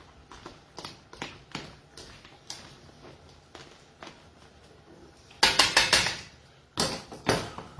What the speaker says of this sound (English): So I want to finely chop a little tiny bit more chili